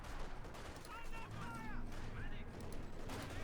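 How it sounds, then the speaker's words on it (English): Machine gun fire from a Panther tank and another vehicle during a Company of Heroes 2 battle: dense, continuous rattling bursts layered with mechanical clatter, heard at a steady moderate level. "Heavy damage to the counter being shredded by machine gun fire from both the Orbital and the Panther"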